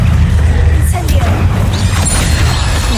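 A loud, booming Incendio fire spell blast from Hogwarts Legacy bursts out near the start and rumbles on through the short moment, with a voice over it.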